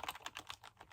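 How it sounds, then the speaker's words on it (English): Quick, close taps on a computer keyboard come in a soft, steady typing rhythm of about five or six keystrokes, quiet and clear with no voice over them. "typing"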